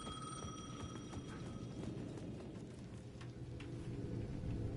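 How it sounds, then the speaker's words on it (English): A payphone rings in the Alan Wake 2 video game, a thin repeating ring at the edge of a town plaza, heard faintly through steady low rumbling ambience like rain or thunder. "The payphone at the edge of the plaza was ringing again."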